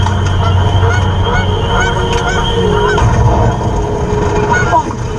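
Geese honk repeatedly during a goose hunt, their calls rising over a loud, dense outdoor wash of noise that continues throughout. A voice is faintly mixed in.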